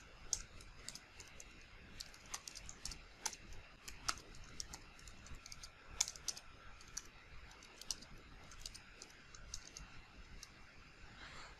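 Someone types code on a computer keyboard, quick irregular bursts of crisp key clicks close up, with short pauses between runs of keystrokes and no talking.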